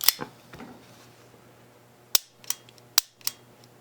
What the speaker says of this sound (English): You can dry fire these pistols